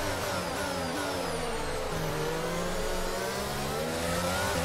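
A Formula 1 car in the racing game F1 22 at the Singapore Grand Prix, its engine revving high and continuously as the wheels spin exiting corners, loud and unbroken with no talk.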